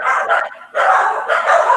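Small dogs barking close by in two long, loud bursts of rapid, high-pitched yapping separated by a brief pause, with no talk over them.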